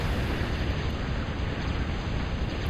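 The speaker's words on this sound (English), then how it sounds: "He's getting it in on the long-range plasma cannon action." A steady, dense roar of heavy fire from a Big Bertha long-range plasma cannon in the strategy game Total Annihilation, broad and rumbling throughout with no distinct separate shots.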